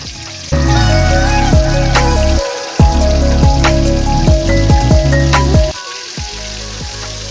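Fish fries in hot oil with spices in a pan, a dense steady sizzle with crackling pops that briefly drops out twice as ingredients are stirred or added, close and loud with no talking.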